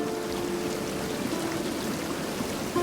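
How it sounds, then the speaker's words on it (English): In the fantasy game Tainted Grail: The Fall of Avalon, a waterfall and flowing water rush in a steady, even wash of noise that fills the scene without break. "Nope, just waterfall and water."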